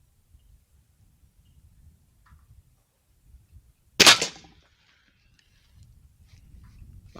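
A single sharp Weihrauch air rifle shot cracks out once, close and sudden, amid quiet rustling and faint handling noises before and after.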